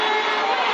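Hockey arena crowd in NHL 13 roars loudly and steadily in a brief, continuous wash of cheering, with no breaks or individual voices standing out.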